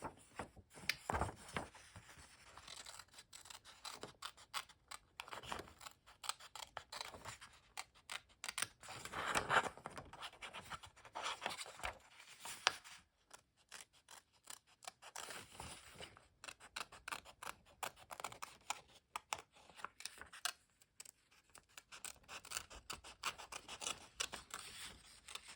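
Paper images being fussy-cut with scissors, a dense run of close, crisp snips and rustles that continues steadily with short pauses, no voice over it.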